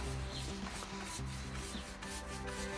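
Painted timber is sanded by hand in steady back-and-forth strokes, a continuous gritty rubbing with a regular rhythm, close but fairly quiet, with no talking.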